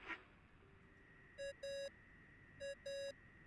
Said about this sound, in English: The bauble is making noise.